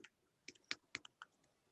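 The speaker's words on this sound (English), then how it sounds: "I was just typing name generator" Soft, quiet keystrokes on a computer keyboard, around half a dozen separate clicks in an uneven rhythm, close by and heard alone.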